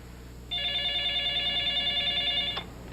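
A telephone rings once in a quiet room, a single steady electronic ring lasting about two seconds, clear and close, then cut off abruptly.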